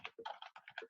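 Quick, uneven keystrokes on a computer keyboard, a short run of close, crisp clicks in a quiet room.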